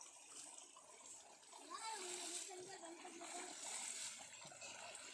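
A young girl splashes while swimming outdoors, producing irregular bursts of close water splatter and sloshing. Soft voices and a child's speech are heard in between.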